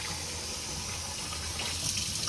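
Running water for tortilla dough pours steadily from a tap, a continuous close gush without pauses.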